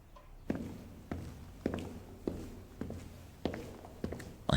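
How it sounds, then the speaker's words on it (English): Hurried footsteps of a woman scrambling to catch up, seven or eight distinct steps in a steady quick rhythm, fairly close and clear over a quiet background with no talking. "I could hear her footsteps scrambling to catch up."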